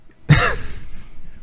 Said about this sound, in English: He didn't just cough into the microphone